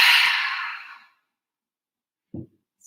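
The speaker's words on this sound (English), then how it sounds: "Exhale, let it go." A long, slow breath exhaled in a yoga balanced-breathing exercise, a broad airy whoosh that fades out over about a second, then a brief soft low puff after a silent gap.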